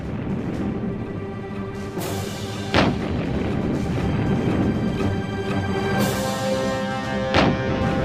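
Gunfire from an ambush on an American artillery observation battalion in the Ardennes, December 1944: a dense, continuous roar of shooting with sharp cracking reports standing out near the start and end.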